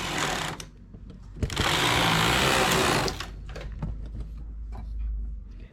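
A knitting machine fitted with a ribber makes one heavy, loud pass of the carriage for about a second and a half, framed by clicks and quieter mechanical knocks before and after.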